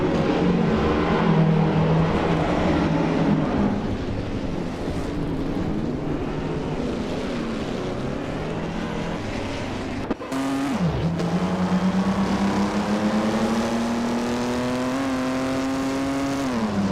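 A 1958 Maserati 250F and rival race cars in a racing video game, a loud continuous engine drone that climbs and drops through gear changes, with one abrupt shift and a renewed rising whine partway through.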